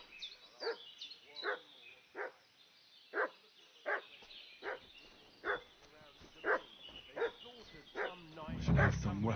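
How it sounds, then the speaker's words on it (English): A dog barks repeatedly in a game world from Kingdom Come Deliverance II, a dozen evenly spaced sharp barks at moderate distance, ending with a louder rumbling burst. "What's that dog making such a fuss about?"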